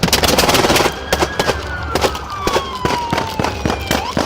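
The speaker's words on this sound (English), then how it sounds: "Shots fired!" Loud gunshots are fired during a police chase: a rapid series of sharp, close cracks spaced irregularly across the clip, with a siren-like tone sliding underneath.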